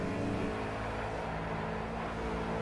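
A Ford Fusion in the racing game Project CARS holding a steady, droning engine note as it accelerates, constant and fairly loud throughout with no talking.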